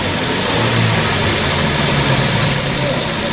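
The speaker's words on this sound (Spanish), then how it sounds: "Ahora por favor encendemos el vehículo para ver el comportamiento de la válvula" A car engine runs at a steady idle, a continuous loud hum with no starting crank or revving, only an even drone throughout.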